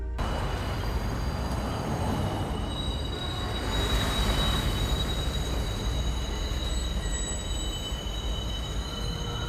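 A train runs through a station in a Joaquin Phoenix film, a steady loud rumble of rolling cars with high wheel squeal ringing over it, continuous throughout, with no talk.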